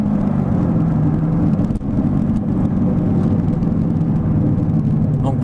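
A Corvette C6 Z06 roars continuously under hard acceleration, a loud, steady, deep engine drone heard close from inside the car, with a brief dip partway through as it shifts.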